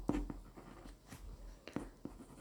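Scratchy strokes and taps of a pen writing Russian words on paper, soft and close, with short irregular scrapes and pauses between letters in a quiet setting.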